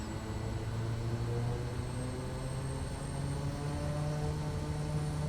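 A Quest Kodiak 100 single-engine turboprop in Microsoft Flight Simulator throttles up on the runway with brakes held, a steady loud propeller drone rising slightly in pitch and holding continuously, no voices.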